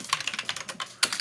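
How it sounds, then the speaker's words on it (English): Fingers type a short burst on a computer keyboard, with quick light clicks close to the mic and an uneven rhythm over a quiet background. "Y'all can see me typing"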